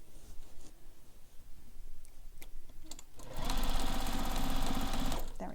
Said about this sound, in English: So I'm just gonna back stitch over here again.